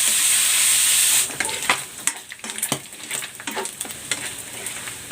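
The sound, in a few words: pork fat rendering, sizzling in pan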